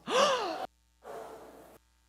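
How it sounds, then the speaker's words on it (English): An audience on cue lets out a sharp collective gasp, then a second softer, breathy exhale, both brief and close, with silence between and after. "Can we gasp again? Everybody's really shocked."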